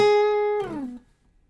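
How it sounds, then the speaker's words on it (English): A guitar note held at the ninth fret rings steadily, then slides downward in a smooth falling glide and quickly dies away into silence, played alone. "we start on the ninth fret, and if we're sliding out downwards, it sounds like this"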